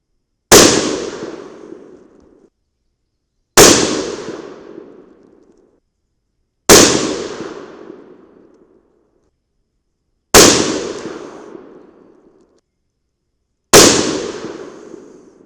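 Five loud, sharp rifle shots from a Savage chambered in .308 Win firing 145-grain Lehigh Defense Controlled Chaos test loads with 39 grains of powder, each crack trailing a long outdoor echo, spaced about three seconds apart.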